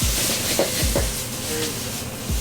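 Magic sauce poured into a hot pan at a Pistahan 2021 culinary pavilion cooking demo, a loud steady sizzle and hiss with a few brief stirring scrapes, no talk.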